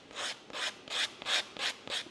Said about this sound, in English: I'm just lightly scraping. And what I'm doing is I'm trying to get this chalky plastic off